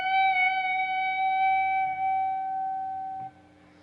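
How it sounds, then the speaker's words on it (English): A single sustained guitar note on the B string at the 18th fret is bent up a full step and held with slow vibrato, ringing clearly alone and fading near the end. "after I've picked it, I'm going to bend it up a full step."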